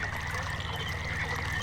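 Steady flowing water trickles and pours continuously in the video game Myst, a constant, even wash of liquid sound at moderate level with no talking.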